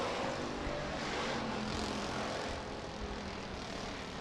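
Sportsman and B-Mod race cars roar through a heat race at Rapid Speedway, a dense, unbroken engine drone heard from a distance without letup.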